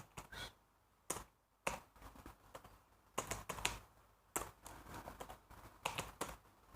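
Keys clatter on a computer keyboard while entering numbers into a table in OpenOffice, in short irregular bursts of clicky keystrokes with pauses between, close and fairly quiet, no talking.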